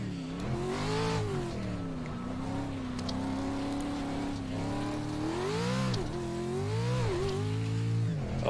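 Pro Truck engine in the iRacing sim revving hard and steadily, its rising and falling pitch sweeping through gear changes with a brief squeal of tires, loud and continuous throughout with no talking.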